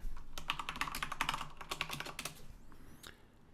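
Keys on a Commodore VIC-20 keyboard are typed in a fast run of sharp, close clacks that thin out toward the end, with no talking.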